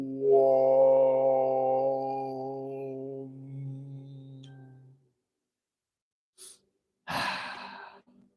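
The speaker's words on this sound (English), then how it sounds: "Inhaling through the nose." A long, steady hummed Om fades out during a yoga pranayama session, followed by a few seconds of quiet and then one sharp, close deep inhale through the nose near the end.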